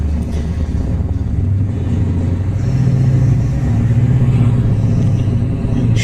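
Aircraft engines in the flight game IL-2 Cliffs of Dover drone loud and close, a steady low rumbling roar whose pitch shifts slightly as the engines rise in revs.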